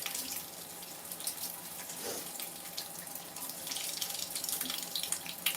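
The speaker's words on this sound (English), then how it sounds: "Let the ear be cleaned by the water." Steady running water rinsing out an ear, a continuous faucet-like stream with small splashes and shifts in flow, close and fairly quiet with no talking.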